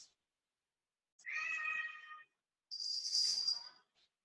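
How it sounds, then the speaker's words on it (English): A house cat in a yoga room lets out two drawn-out meows, the first lower and tonal, the second higher and brighter, separated by silence and clearly heard alone. "we now have the yoga cat in the room"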